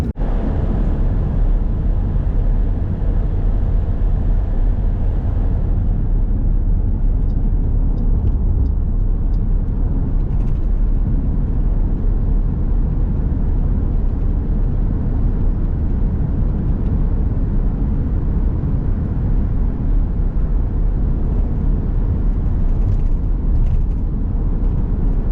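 A car drives steadily toward a US border patrol checkpoint, with continuous loud road and engine rumble from inside the vehicle and no pauses across the whole stretch.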